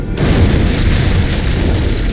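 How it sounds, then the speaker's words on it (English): Antimatter charge detonating aboard a ship in the pre-release beta of Halo 1, a sudden loud boom that erupts after a brief silence and rolls on as a thick, sustained rumble. "It must have been one of their boarding parties. I'd guess an antimatter charge."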